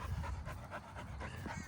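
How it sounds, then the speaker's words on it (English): A dog panting close by in quick, rhythmic breaths that continue steadily and fairly loudly without any talking. "She's like, okay, this dog is too big for me to bark at."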